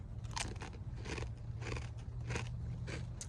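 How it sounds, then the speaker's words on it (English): Cucumber-flavoured chips crunched up close, five sharp bites and chews landing roughly every half second, loud and crisp over a faint low hum, with no talking. "I apologize for the crunching."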